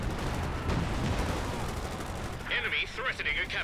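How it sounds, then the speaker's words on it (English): Zeroing artillery barrage in Company of Heroes 2, a dense rumbling wash of repeated blasts and gunfire continuing throughout. A voice speaks under the din near the end. "the zeroing artillery is just wrecking"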